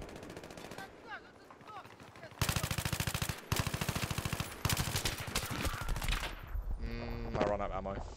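Rapid automatic F2000 rifle fire in Battlefield 3 on Xbox One, dense bursts rattling loud and close with short gaps between strings of shots.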